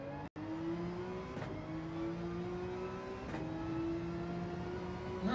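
Gr.3 race car engine lapping Spa-Francorchamps in a racing game, a loud continuous whine climbing in pitch through the gears, with quick drops at each upshift and a brief cut near the start.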